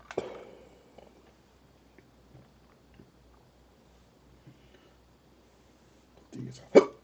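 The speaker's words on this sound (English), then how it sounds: "Ooh, sorry for the hiccups." A person hiccups during a Farming Simulator 22 livestream: one abrupt hiccup at the start and another sharper one near the end, with near-silence and a few faint clicks between them.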